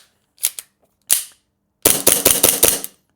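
A Novritsch SSP2 airsoft pistol fitted with an SSP5 magazine fires a couple of sharp cracks, then a rapid string of about six close, loud snapping shots in quick succession.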